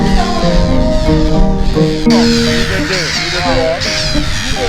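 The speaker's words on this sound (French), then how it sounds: "Il s'agit de la mouette à tête grise et la sterne caspienne." Grey-headed gulls and Caspian terns call from a nesting colony in the Parc National de la Langue de Barbarie, a loud, continuous chorus of overlapping harsh, wavering cries close by.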